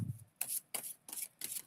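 Tarot cards being shuffled by hand in four quick, papery riffling bursts with short pauses between, close and fairly soft, no talking.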